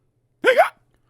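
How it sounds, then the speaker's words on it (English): A single cartoonish hiccup from the character Mr. Noisy, one short loud burst with a rising, squeaky vocal tone, heard alone against near silence. "I got the hiccups"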